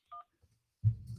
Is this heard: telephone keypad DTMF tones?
yes